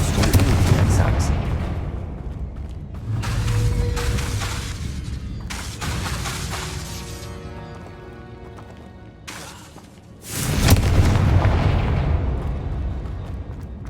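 Loud, repeated blasting-spell explosions from the Hogwarts Legacy video game, several heavy bursts with rumbling tails close together, with a player's voice talking between them.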